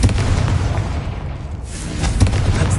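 Confringo fire spell blasts in a wizard video game, deep booming explosions close up with rumbling bursts, a heavier hit near the start and another near the end.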